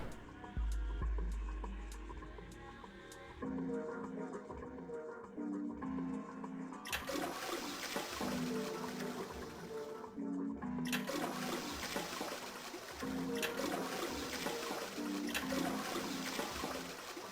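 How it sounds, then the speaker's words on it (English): A toilet in the video game Zero Escape 999 is flushed repeatedly, with loud rushing water bursts that swell and cut off, over a low hum and repeating game music. "Flush the toilet 4 times."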